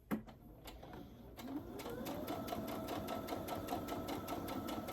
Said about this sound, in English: I'm gonna sew 1/8 of an inch to the left of this line